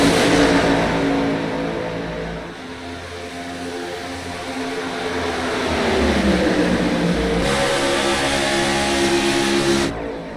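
Stock cars race around Talladega in a racing video game, a dense, loud engine roar sustained throughout with rising and falling pitch as the pack drafts, shifting briefly midway before swelling again.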